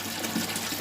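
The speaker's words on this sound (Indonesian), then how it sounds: "ada itu kan gelembung sambil nyodok air ya" Aquarium air pump pushing bubbles through water in an ornamental botia fish tank, a steady close-up bubbling and watery rush with no talk.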